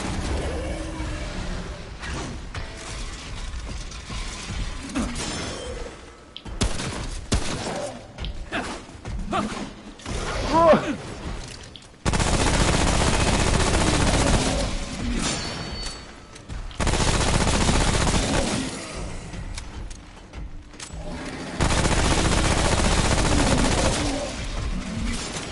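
Rapid pistol gunfire in the shooter game Remnant: From the Ashes, loud repeated shots in dense bursts separated by brief pauses, with mechanical clanks and thuds in between.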